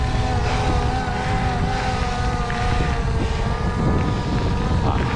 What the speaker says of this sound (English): So the drone's following me.